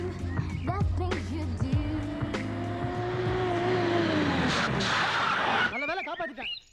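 A speeding car in a Tamil movie scene screeches with a long tire squeal as it skids to a halt, loud and close, with scattered voices and street noise around it.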